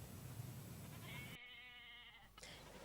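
A lone sheep on the loose in a farm field, with a steady bleat-like wavering call over constant noisy background, cut off abruptly before a brief final sound.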